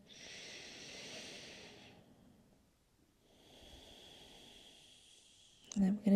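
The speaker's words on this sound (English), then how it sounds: "One last breath here" Two slow, deep breaths during a yoga practice, a long airy inhale and an equally long exhale separated by a quiet pause, soft and close, with a brief rustle at the end.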